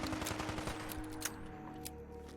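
Rapid gunfire in Fallout 4, a quick burst of repeated sharp shots early on followed by a few scattered single cracks, fairly close.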